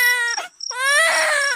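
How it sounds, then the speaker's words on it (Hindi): A small child cries as a sound effect in a Hindi bedtime story, with two loud wailing sobs separated by a short catch of breath, and the second cry is longer. "तभी उसके कानों में किसी छोटे बच्चे के रोने की आवाज आई।"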